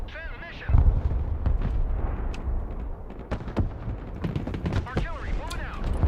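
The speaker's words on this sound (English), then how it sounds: "More cruise missiles." Cruise missile strikes explode in the video game Broken Arrow, with heavy booming blasts and sharp cracks rolling across a dense battle din, while a voice talks through the action.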